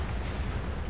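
A tank cannon shell slams into the ground in World of Tanks, giving a dense, loud low rumble of explosive impact that fills the whole short moment with no talk.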